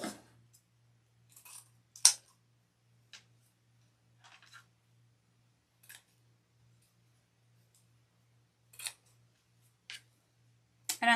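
Scissors cutting lengths of green and pink ribbon for a spring tulip wreath: sparse, faint snips and small clicks scattered across a quiet room, with a soft low hum underneath.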